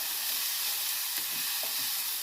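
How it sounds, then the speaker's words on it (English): Mushrooms searing in a hot non-stick pan, a continuous close crackling sizzle with small pops and scrapes of a spatula stirring, no talking. "You want your mushrooms to get a good searing heat on them"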